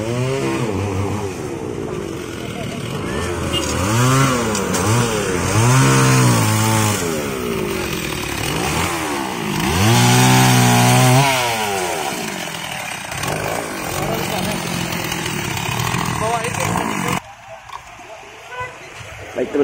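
A chainsaw cuts up a large roadside tree during the clearing of illegal buildings along a main road in Tambun, Bekasi. The engine is loud and close, revving up and down repeatedly as it bites through the wood, then drops to a rough idle.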